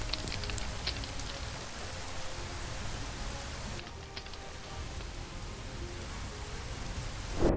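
In a Minecraft lightning storm on a pirate island, steady rain hisses and patters without a break, with low thunder rumbling underneath and a sharper crack right at the end.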